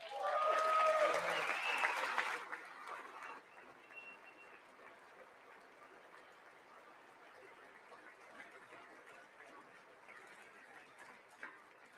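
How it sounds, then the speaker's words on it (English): A crowd at the State of the Union address applauds loudly for about two seconds, then the clapping fades into quieter room murmur and scattered noise. "I wasn't sure if anybody even on this side was going to applaud for that"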